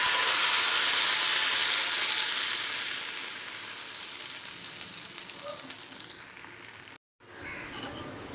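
Adai batter sizzles on a hot tawa with a loud, bright frying hiss that slowly eases over several seconds, then cuts out briefly and returns softer. No one speaks.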